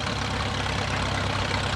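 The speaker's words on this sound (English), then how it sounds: "The G6 tractor being followed by Avery Stevens driving a 5-star tractor" An antique 5-star tractor engine idles and runs steadily at an antique tractor and steam engine show, a continuous low rumble with a dense broadband mechanical roar, close and unbroken throughout.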